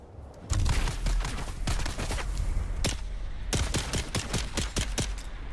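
Gunfire hammers a shield in the video game Dune, loud close bursts of rapid shots, then a brief pause and a tighter run of sharp individual cracks.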